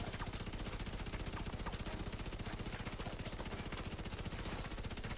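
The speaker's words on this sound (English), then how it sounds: "we're shooting manholes" Sustained automatic gunfire in The Division 2 as a player shoots at manholes: a dense, unbroken rapid-fire rattle holding steady and loud throughout.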